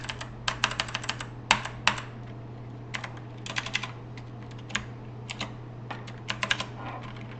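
Keys clatter on a computer keyboard in short bursts of quick taps separated by pauses, close and crisp over a faint steady hum.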